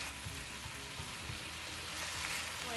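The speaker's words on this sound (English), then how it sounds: "we need to saute that as well to release the flavor, and that will make your shrimp curry so tasty" Shrimp curry sautéing in a pan, a steady, close sizzle and crackle with faint stirring scrapes, no voices.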